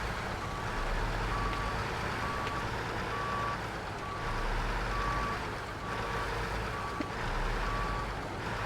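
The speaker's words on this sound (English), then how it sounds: "I've got to reverse this thing back down again." Steady reversing beeps repeat at an even pace from a heavy truck backing up in the off-road game Snowrunner, with a low diesel engine droning underneath.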